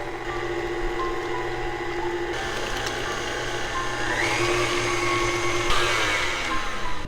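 Electric mixer whipping eggs for a chocolate cake batter, a continuous whirring motor drone with shifting pitch as the beaters work, running steadily throughout without talk.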